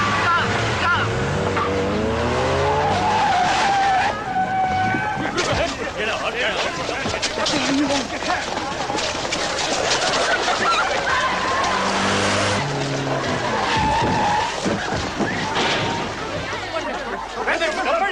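A black Mercedes speeds past with tyres squealing and skidding, loud engine roar rising and falling over about eighteen seconds, with shouting voices mixed in.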